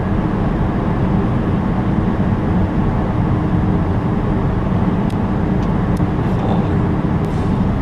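A car being driven gently, giving a steady low road and engine rumble from inside the cabin, continuous and even throughout, with a few faint clicks near the end.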